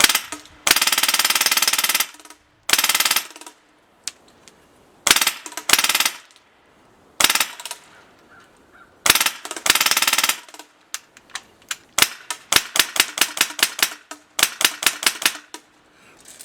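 Airsoft gun firing on full auto, loud rattling bursts of varying length separated by pauses, ending in a run of short rapid bursts.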